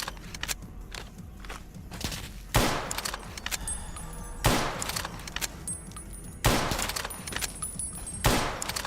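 Bursts of gunfire in the video game Fallout D.U.S.T. mod, several loud sharp reports spaced a couple of seconds apart over a busy background of rapid clicking and footstep-like taps.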